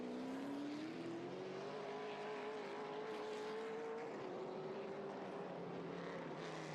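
Race cars roar around the ICAR circuit in the 2022 General Tire 125, with one steady, loud engine note whose pitch climbs slowly and then dips after a gear change, and no voices over it.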